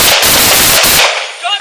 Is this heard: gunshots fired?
yes